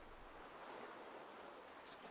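Ocean waves wash steadily at sea in the sailing game Sailwind, a soft, even surf and wind hiss that stays faint throughout, with a brief brighter splash near the end.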